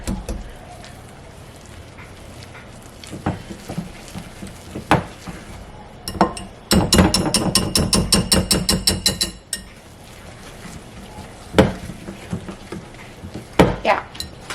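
Pancake batter for fluffy pancakes being whisked in a bowl, a rapid run of rhythmic clinking taps in the middle framed by scattered knocks and scrapes of utensil on the bowl, close and fairly loud.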